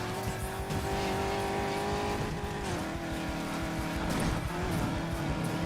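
A Land Rover drives and slides off-road in Need for Speed Payback, its engine droning steadily with pitch rising and falling as the tires scrub through drifts, loud and continuous throughout.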